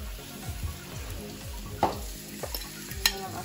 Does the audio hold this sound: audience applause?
no